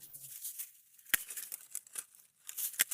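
Hydrangea stem cut back with pruning shears, giving a sharp snip followed by soft rustling and crinkling of leaves and twigs, close and fairly quiet, with no speech.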